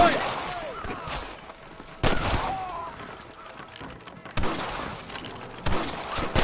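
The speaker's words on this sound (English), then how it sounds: "Damn fine shooting, boys" Gunfire bursts in the Western video game Red Dead Redemption, sharp loud cracks and volleys recurring at irregular intervals, with a shouted voice and goose-like honks in between.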